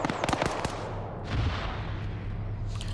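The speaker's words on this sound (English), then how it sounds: "Grenades going off, damaging the tower." Grenades bursting against a tower in a multiplayer shooter video game, a rapid cluster of sharp cracking blasts followed by a rumbling boom and lingering debris noise, loud and with no talking.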